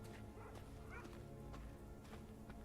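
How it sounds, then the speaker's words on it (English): A dog barks a few times in the video game Thronebreaker, short yips and woofs over a steady low game soundscape, quiet and somewhat distant. "A dog?"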